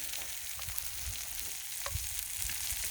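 Beyond Meat Italian sausages fry in oil on a Blackstone griddle with a steady, close, continuous sizzle and occasional sharper pops and crackles throughout.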